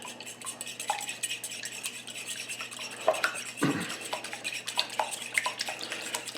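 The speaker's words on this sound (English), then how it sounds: "So we have a couple of eggs. I'm going to beat them just like we're going to scramble them." A couple of eggs being beaten with a utensil in a bowl, as for scrambling, to make an egg wash for eggplant parmesan: quick, steady clinking and scraping strokes, fairly quiet and close, with no talking.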